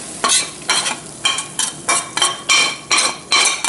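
Cooked fresh bass with white flesh scraped from a hot pan with a utensil and plated onto cheddar cheese for fish tacos, giving about eight rhythmic scraping strokes, close and moderately loud, with no talk.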